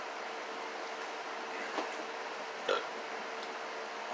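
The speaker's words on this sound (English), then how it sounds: "got the hiccups" A person hiccups in short, sharp bursts, a few irregular jolts over a low, steady background hum.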